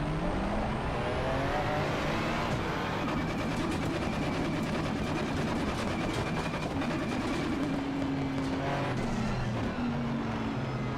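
Race cars at Donington Park in a racing sim, GT3 and GT4 cars including a McLaren Artura, engines droning continuously and close with rising and falling revs and other cars passing nearby, steady and loud throughout.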